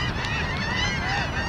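Geese honking as a flock flies over a New York cricket ground during a league match, a steady overlapping chorus of calls lasting throughout, moderately near with no talk.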